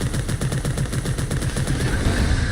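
Rapid automatic gunfire in the shooter video game Bounty Star while fighting an enemy, a loud and continuous run of closely spaced shots lasting the whole stretch.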